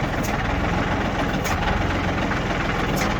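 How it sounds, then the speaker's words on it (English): A tractor engine idles with a continuous, fairly loud low rumble and an even mechanical pulse, close by and steady throughout with no talking. "I can about stall the tractor down"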